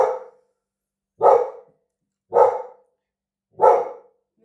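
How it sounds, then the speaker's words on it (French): A dog barks four times at even intervals about a second apart, each bark loud, close and sharp with a quick fade and silence between. "mes chiens ont arrêté d'aboyer"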